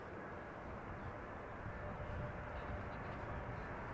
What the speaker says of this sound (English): 747-400 arriving from Mumbai in India